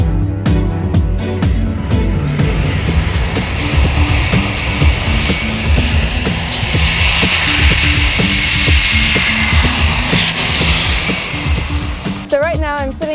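Inside a 200-ton C-17 aircraft parked on about six feet of Antarctic ice, a loud, steady roar of engines and machinery fills the cabin with dense broadband noise throughout.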